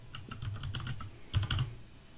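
Quick, clicky typing on a computer keyboard, close and fairly quiet, with a steady run of keystrokes and a short, denser burst near the end.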